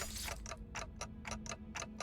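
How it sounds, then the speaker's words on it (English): Rapid, even mechanical ticking from the video game Limbus Company, about seven crisp clock-like ticks in two seconds over a faint low hum, fairly quiet and with no talking. "The ticking is faster"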